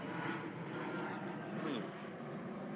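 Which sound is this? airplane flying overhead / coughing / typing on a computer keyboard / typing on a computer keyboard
airplane flying overhead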